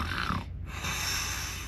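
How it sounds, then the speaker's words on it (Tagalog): A person asleep at night snoring loudly and close, one rough nasal snore with a snort, then a short quiet gap before the next breath. "kagabi malakas talaga ang aking hilik"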